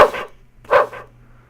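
A small dog in the roguelike game SLASHEM gives two short, sharp digital barks close together, loud and clear over a faint steady hum.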